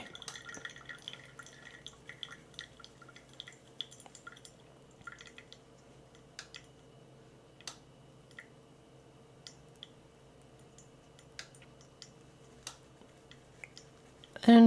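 Hot water trickles onto coffee grounds in a pour-over brewer, giving a soft, faint dripping and splashing that continues steadily with occasional small clicks and taps.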